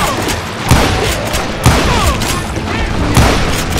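Several heavy gunshots ring out at uneven intervals in the Wild West shooter Call of Juarez Gunslinger, each a loud booming crack with ricochet-like whines trailing under steady background gunfire and a faint voice.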